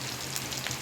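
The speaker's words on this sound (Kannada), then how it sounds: "ಈರುಳ್ಳಿ ಪಾಡ್ಲಾಕಿ ಫ್ರೈ ಮಾಡಿ" Onions frying in a mix of oil and ghee for a Mangalore-style chicken curry, giving a steady, close crackling sizzle with a soft hiss throughout.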